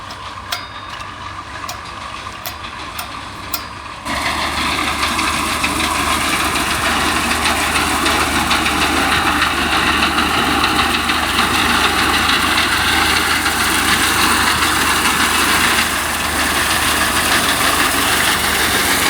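An old loader engine runs close by, a rough, steady rumble with faint knocking that starts quieter and then jumps to a louder, fuller roar after a few seconds and holds there.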